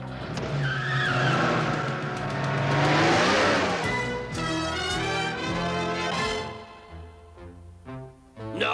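Cartoon car Smokescreen from Transformers peels away with squealing, skidding tires and a rising engine rev, followed by a musical sting as it speeds off.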